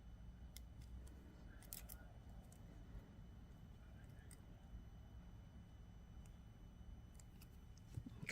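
Wire cutters snip wire during wire wrapping of a carnelian cabochon, giving small sharp clicks at irregular intervals over a low, steady background hum.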